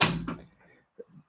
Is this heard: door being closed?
yes